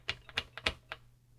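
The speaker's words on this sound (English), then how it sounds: "So if I keep typing" Keys tapped on a TRS-80 Model 100 computer keyboard: five crisp clicks in a loose rhythm, close and fairly quiet, over a low steady hum.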